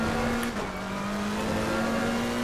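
A race car engine at full throttle in Assetto Corsa Competizione, a loud, steady high-revving drone with a brief dip before the pitch climbs again.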